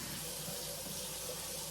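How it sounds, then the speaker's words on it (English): Tap water runs steadily into a sink at a kitchen workstation where fatty meat is being prepared, a continuous close broadband rush with no talking over it. "Second thing I'm doing is running some water."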